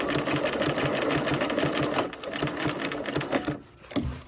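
A sewing machine runs steadily, stitching a quilt through its narrow final stretch, with a dense mechanical whir that slows and pauses briefly near the end before resuming.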